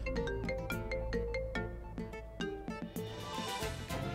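A phone ringtone plays an incoming call as a bright, repeating electronic melody, loud and close, with no voices over it.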